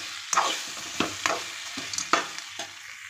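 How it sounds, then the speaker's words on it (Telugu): A spoon stirs fried potato pieces with coriander and mint in a hot pan, giving several distinct scraping strokes over a continuous sizzle, with no talking. "బంగాళదుంప ముక్కలు, కొత్తిమీర, పుదీనా మొత్తం వేసి ఒకసారి కలుపుకోవాలి."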